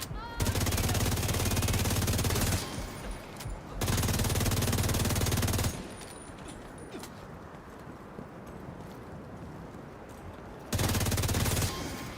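Rapid bursts of pellet-gun fire in The Division 2, loud dense rattling volleys in three stretches separated by quieter ambient game noise.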